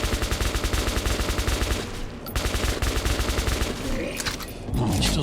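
A machine gun in the video game Metro 2033 Redux fires in fast, continuous bursts of rattling shots with a short pause midway, loud and close.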